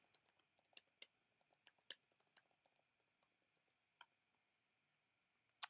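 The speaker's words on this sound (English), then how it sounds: "Let me just type that in the chat" Someone types a chat message on a computer keyboard: sparse, light key clicks tapping out an irregular rhythm, fairly quiet and close, ending with one sharper click.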